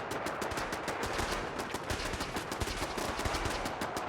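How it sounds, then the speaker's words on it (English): A minigun fires in Fallout 4 as a dense, rapid stream of shots, steady and unbroken throughout, sounding distant and fairly faint beneath the game's general noise. "That's a minigun right there."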